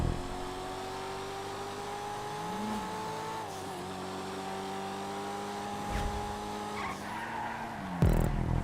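A Banshee sports car in GTA Online, driven with HSW turned off, roars along at a steady engine pitch while its tyres squeal and skid through long slides, the motor dipping and rising as it corners.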